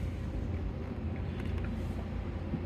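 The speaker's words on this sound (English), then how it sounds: "then you can hear the little pump going there" Small water pump in a Vangear Mini-Pod GEN2 campervan kitchen pod, running continuously with a low, steady droning hum, close by and without any talking.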